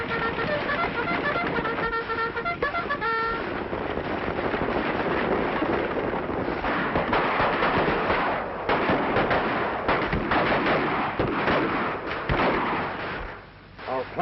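Gunfire from an attack in a 1936 western film, rapid cracking shots and blasts layered over a dense, continuous battle din, with a horn-like call early on and shouting voices mixed in.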